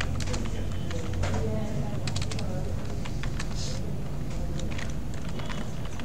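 Clicky computer keyboard typing in quick irregular bursts, close and moderately loud, under someone speaking Bengali.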